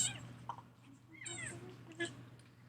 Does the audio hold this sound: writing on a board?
no